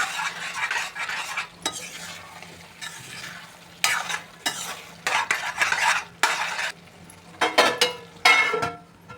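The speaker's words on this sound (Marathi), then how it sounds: "आता आपण प्रॉन्स घालूया ह्याच्यामध्ये, आणि चांगलं कालवून घ्यायचं व्यवस्थित" A spoon stirs and scrapes hariyali prawns, prawns cooked in a green masala, through a pan in repeated uneven strokes. The food sizzles softly underneath, with occasional metal clinks up close and no voices.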